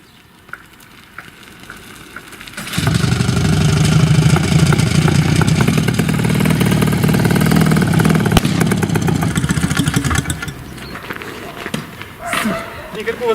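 A small engine on a homemade dune buggy being repaired for an ignition coil fault starts up and runs steadily at close range for several seconds, a loud buzzing drone, then cuts out, leaving quieter background noises.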